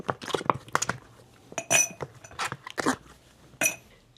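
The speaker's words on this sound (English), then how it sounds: "So I'm going to put a couple of ice cubes in here." Ice cubes clink and rattle into a glass while a martini is mixed, giving a string of bright, close, irregular knocks over about four seconds with no talk.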